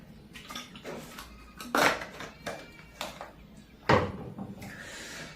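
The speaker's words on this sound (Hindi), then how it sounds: "रुकिए हम पानी पीते हैं।" Someone pauses to drink water, with a few sharp clinks and knocks of a glass or bottle being handled, some swallowing sounds, and low background noise between.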